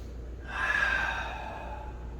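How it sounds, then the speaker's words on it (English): One long, slow, deep breath taken during tai chi practice, close and clear, swelling then gradually fading with no talking around it. "Just breathe in, and the breath should be long, slow. Try to go deep with that breath."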